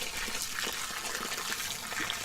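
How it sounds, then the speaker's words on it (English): Water runs steadily from a garden hose, a constant close splashing rush with no pauses, fairly loud and alone. "So here's the garden hose. Here's the water. And as you can see, it's flowing."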